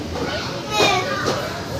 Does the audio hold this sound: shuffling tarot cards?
no